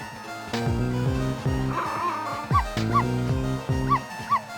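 Chipper Dog Missile, a cartoon dog in the game Ghost Trick, barks and yips in several quick bright bursts over steady game background music, with a short whimper and no talking.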